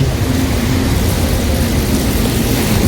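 Heavy rain pours steadily outdoors at a Shiva temple site in Bargarh, a dense, loud, unbroken wash of falling water with no talk.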